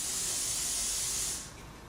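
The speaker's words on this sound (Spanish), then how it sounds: "se le pasa un aerosol que se llama ennegrecedor de tono" An aerosol can of solvent-based toner blackener, used on a laser-printed sheet, hisses in one loud, steady spray lasting over a second before cutting off, leaving a softer background hiss.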